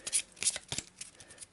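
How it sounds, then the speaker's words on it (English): Brisk riffle of a deck of game cards being shuffled by hand at the table, a few quick rustling bursts close up, no talk. "Quick shuffle"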